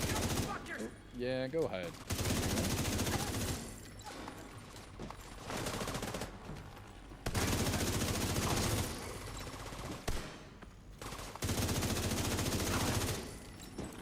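Gunfire in The Division 2, rapid automatic bursts in repeated stretches with short pauses between them, loud and close, while a player speaks briefly over the shooting.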